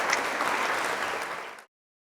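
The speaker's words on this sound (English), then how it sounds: "Let's give him a round of applause." An audience at a university giving event applauding a game-show style winner, a dense steady burst of clapping from a crowd that fades and cuts off after about a second and a half.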